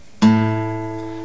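A single plucked guitar note A, played on the fifth fret, rings out clearly and sustains, slowly fading, alone and close.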